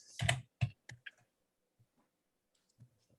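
Typing on a computer keyboard, a quick cluster of sharp, close key clicks followed by a few sparse, fainter taps in a quiet room.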